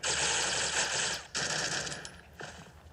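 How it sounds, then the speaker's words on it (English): Sustained automatic gunfire in Counter-Strike as a CT player sprays through a wall from B site, loud and continuous with two brief pauses between bursts. "Looks like CT side is going to go for that wall bang from B."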